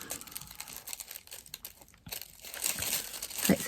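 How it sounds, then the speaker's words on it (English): A sticker being peeled off a surface, heard as close, crinkly tearing and rustling that comes in irregular bursts, with a sharper rip near the end. "I'm going to take the sticker off"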